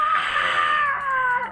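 A single voice imitates people screaming: one loud, high, drawn-out cry that slowly falls in pitch over about a second and a half.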